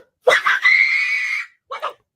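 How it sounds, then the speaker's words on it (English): A woman's loud, shrill scream held for about a second, followed after a brief pause by a shorter second cry, both close and alone without background noise. "I just had to see her scream one more time"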